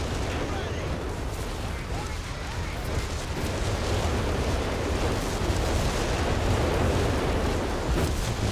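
Whiz-bang rocket artillery fires in a Company of Heroes 3 match, a dense continuous roar of launches and blasts over rumbling battle noise, loud and sustained throughout.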